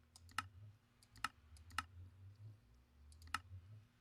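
Mouse clicks repeated at an uneven pace while crafting machine frames in a modded Minecraft pack with Thermal Expansion and Ender IO, faint and close against a low background hum.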